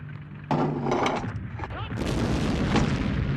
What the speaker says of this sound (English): The French artillery now firing at clearly visible targets.